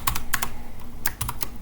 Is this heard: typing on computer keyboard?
yes